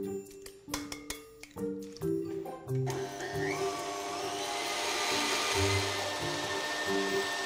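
An electric mixer beats cake batter with yogurt and two eggs, starting in stuttering bursts and then settling into a steady, loud whirring hum that runs on alone.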